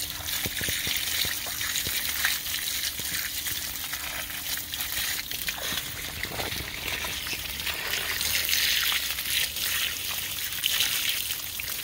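Running water pours steadily over a freshly dug-up root being washed off, a continuous splashing trickle close by that holds for the whole stretch with no one talking.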